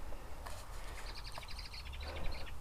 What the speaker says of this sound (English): Apart from the blackbird,